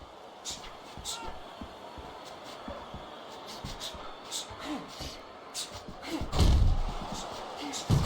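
Dull punches thudding in the Fight Night Champion boxing game during an Ali fight, several scattered impacts under continuous commentary, with a heavier thump late on.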